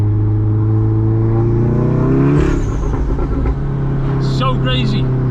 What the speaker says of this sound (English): That is such a loud dump on a Golf R.